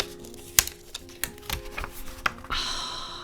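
Thin vellum wrapped around a journal in a recycled paper box is gently opened, giving scattered soft crinkles, ticks and taps, then a brief brighter papery rustle near the end, all quiet and close.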